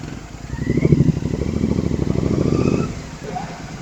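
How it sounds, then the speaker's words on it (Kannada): A Royal Enfield Himalayan 450 motorcycle engine runs nearby with a steady throbbing idle that swells and then eases, while voices talk over it. "ಇದು ಬಂದು ನನ್ನ ಫ್ರೆಂಡ್ ಅವ್ರ ಗಾಡಿ, ಹಿಮಾಲಯನ್ 450."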